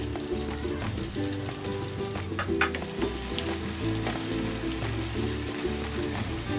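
Coconut milk with taro for ginataang gabi simmers and sizzles in a pot as its oil separates, a dense, even bubbling heard up close with no voices.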